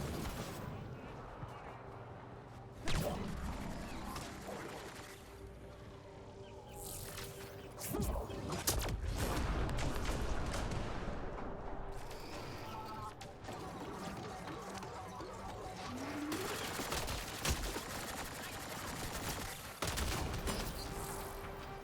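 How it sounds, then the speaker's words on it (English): Bursts of sci-fi gunfire and fusillades from the video game Mass Effect: Andromeda, heard during a combat attack mixed with game sound effects, with voices speaking over parts of it. "Y'all still shooting us."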